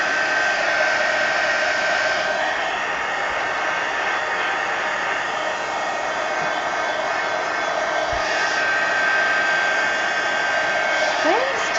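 A hair dryer blows continuously at steady, close volume while drying the pages of an altered collage book; a faint voice comes through briefly near the end.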